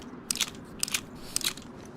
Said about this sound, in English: The snow crunch is peaky ASMR